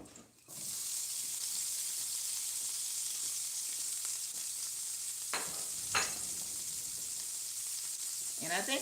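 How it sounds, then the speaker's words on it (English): Pepper and onion mixture dropped into a hot pan, an abrupt onset of steady close sizzling and hissing frying that carries on with a few scrapes of stirring, no talk over it. "So right now, I want to put the pepper and onion mixture."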